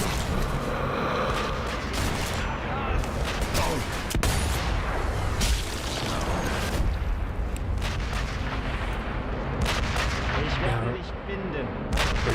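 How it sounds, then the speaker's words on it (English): Enemy soldiers fire rifles and guns in the Sniper Elite V2 war shooter, a dense, continuous barrage of loud cracks and heavy booms that never lets up, with a voice occasionally underneath. "I can see two more firing at us."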